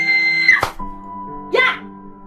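A girl waking suddenly from sleep lets out two sharp screams, one short and one longer and higher, loud over a steady musical drone.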